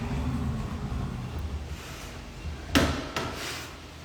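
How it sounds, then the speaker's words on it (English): Doors opened at a traditional Japanese sento bathhouse in Kanazawa, two quick sliding clatters close by over a steady background rumble. "I open the doors here."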